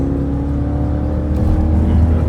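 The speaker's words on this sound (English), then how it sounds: "we just whipped 70 from 40 in like 3 seconds in a full-size SUV" A stock full-size Jeep SRT SUV accelerates hard from 40 to 70 mph, heard from inside as a loud, steady, deep engine roar with a rising drone and road rumble. No voices are heard.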